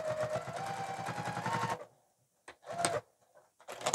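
A sewing machine stitching fabric runs in a fast, even buzzing burst, then falls silent before a few short start-and-stop runs of stitches, close and clear.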